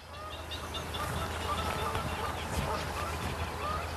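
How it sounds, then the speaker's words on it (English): Thousands of birds in the Martin Mere reed bed form a steady, dense chorus of calls, honks and quacks, continuous and moderately loud with no talking. "There are thousands of birds in the reed bed behind me, and they have nested here."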